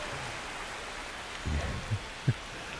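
Steady, soft rain hiss over a ballpark in Boston in the baseball video game MLB The Show 25, with a few dull low thumps partway through and no voices.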